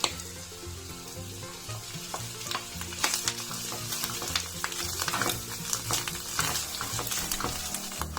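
Shallot and mushrooms frying in foaming butter in a pan, a steady close sizzle broken by stirring scrapes and clicks from a utensil, with no talk.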